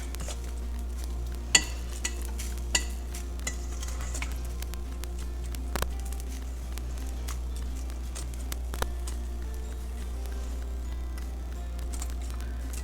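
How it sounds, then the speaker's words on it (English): A utensil stirs white chocolate melting in a pan, giving soft scraping and occasional light taps against the metal over a constant low hum. "So you just wanna constantly stir."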